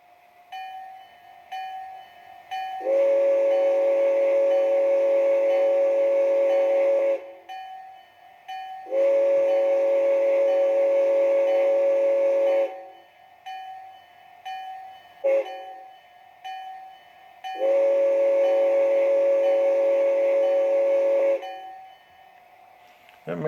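A Bachmann G scale two-truck Climax model locomotive sounds a grade crossing whistle sequence: three long blasts separated by short toots, loud and close, with a faint running hum between them.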